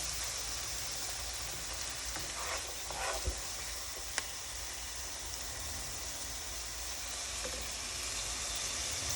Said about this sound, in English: we're still cooking the peppers and the onion